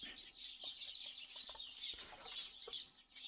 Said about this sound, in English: I don't know where the birds are because they're not outside